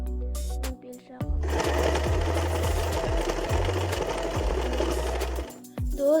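Domestic sewing machine stitching the waistband of a pair of trousers, a fast steady mechanical chatter running for several seconds before stopping, loud and close, with a brief gap and a restart near the end.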